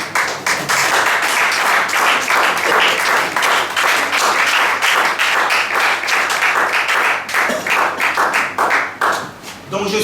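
A church congregation applauds together in sustained, loud, dense clapping that swells and thins slightly, with voices mixed into the crowd noise.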